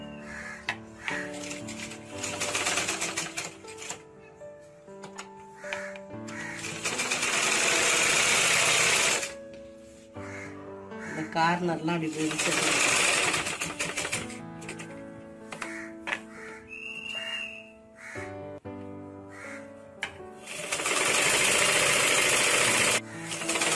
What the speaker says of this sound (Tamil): நான் வந்து இப்போ மிஷின்லேயே தைச்சிட போகிறேன் இதை பீஸை.